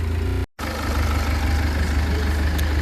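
A Citroen C5 diesel engine idles as it warms up, a steady low clattering rumble, close and loud, with a brief dropout near the start.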